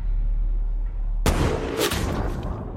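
In a war film scene, gunfire erupts against a man carrying an RPG: a low rumble is broken by a sudden loud blast, followed by a cluster of sharp shots and echoing reports.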